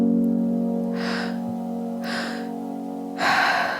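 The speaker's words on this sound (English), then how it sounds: "We'll have the rhythm of the breath going on in the background to help keep you in sync." Deep rhythmic breathing in a guided breathwork session, three strong airy inhales or exhales spaced about a second apart over a steady droning musical pad.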